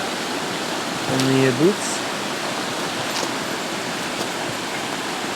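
Steady rushing of a stream flowing past a swimming hole on a walk in Japan, a constant close wash of water while someone briefly speaks over it.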